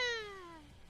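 A cat gives a single clear meow close by in a room, a falling tonal call that fades out over about a second, with nothing else sounding.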